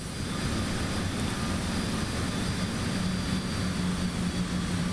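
A Cessna Citation X business jet in a Microsoft Flight Simulator replay gives a steady, loud engine roar with a broad whine and no change in level.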